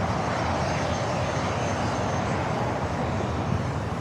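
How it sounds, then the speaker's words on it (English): A Bombardier Challenger 300 business jet landing at Los Angeles International Airport produces a steady, broad engine roar that holds loud and even throughout, with no voices over it. "The Bombardier Challenger 300 landed on the north side."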